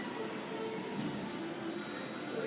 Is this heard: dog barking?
no